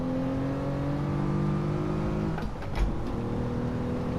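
Racing game car engine from Gran Turismo 7, played on a sim wheel with traction control off, holding a steady loud harmonic drone that dips and surges briefly midway, as in a drift with power oversteer.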